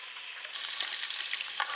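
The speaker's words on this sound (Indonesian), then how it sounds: "Ikan yang kita dapat akan kita goreng." Freshly caught lake fish fries in hot oil at Situgunung, Sukabumi. A bright, hissing sizzle jumps louder partway through and then holds steady and close, with no talking.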